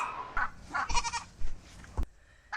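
Goat bucks bleat on a farm, several loud calls in uneven bursts close by, with a short sharp knock near the end and a thin steady tone trailing after it.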